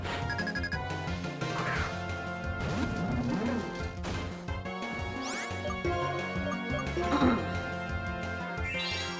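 A dense, busy battle in the Pokemon White video game, with loud crashing impacts of a Brick Break attack layered over constant game music and a few chiming effects.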